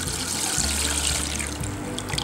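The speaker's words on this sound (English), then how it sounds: "Right now the watch is working, pouring the water over the watch itself" Water poured over a smartwatch, a steady close splashing trickle with a low gurgling undertone, continuous throughout with no voices.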